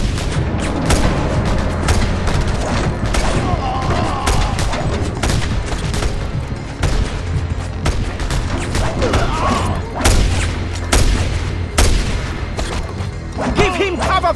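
Dense gunfire and explosions in the video game Just Cause 2: rapid volleys of shots and booming blasts pile up continuously, loud and close, with people talking under the battle.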